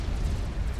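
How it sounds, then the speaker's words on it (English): A nuclear missile strikes in Supreme Commander: Forged Alliance, a deep rumbling explosion heavy in bass that rolls on briefly at steady loudness with no voices. "Over here we can see the nuke landing."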